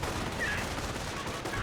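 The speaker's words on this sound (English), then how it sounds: "here got the MG replacement firing away as well" Machine gun fire in the World War II strategy game Company of Heroes comes as a dense, continuous stream of rapid shots mixed with battle noise, loud and steady, with no talking.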